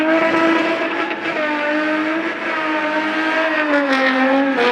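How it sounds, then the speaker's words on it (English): A Red Bull RB7 Formula One car driven by David Coulthard through Sandton City streets in Johannesburg on a show run. Its engine screams loud and close, holding a sustained high-pitched howl with slight pitch shifts as it revs. "British Formula One racing legend David Coulthard tore through the Sandton City roads in the RB7"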